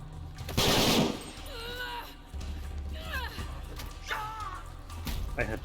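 A short, loud burst of rapid gunfire from a Tomb Raider video game, followed by game characters talking over quieter background sounds.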